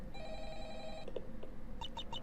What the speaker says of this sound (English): A phone call at this time down here?